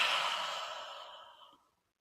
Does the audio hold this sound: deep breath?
yes